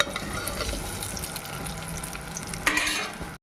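Paneer pieces fry with cumin seeds in a pan, giving a steady close sizzle with stirring scrapes and a sharper burst of hissing near the end, with no voices.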